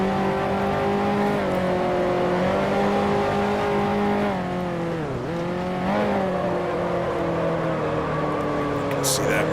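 Racing engines from the Grand Prix Legends game, 1955 Formula One cars including a Mercedes at the Dutch Grand Prix, roar steadily with harmonic whine, pitch dipping and rising through a corner while someone talks over it.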